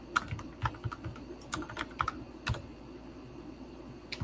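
Scattered keystrokes on a computer keyboard, sharp close clicks in irregular bursts separated by brief pauses, at moderate volume.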